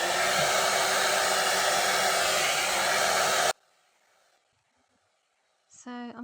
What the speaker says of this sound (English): I'm just using my hands and the hot air brush, and I'm just taking sections and I'm blow drying it up